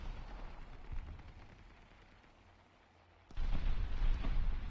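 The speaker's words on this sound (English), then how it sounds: "That was a beautiful carpet bomb" Carpet-bombing blasts in War Thunder: a low rumbling bed gives way to a sudden loud broadband burst of explosions that keeps roaring to the end, with no talk over it.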